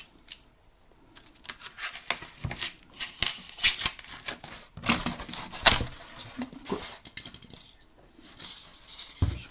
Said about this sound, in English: I've got this, which is inch thick, cutting mat and a knife. What I'm going to do, I'm going to cut